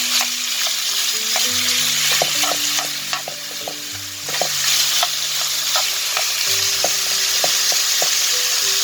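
Chicken strips sizzling and browning in a hot pan, a constant loud crackling fry with scattered spatula scrapes and knocks, no voices.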